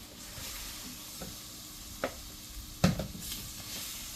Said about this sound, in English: We're going to remove these from the pan,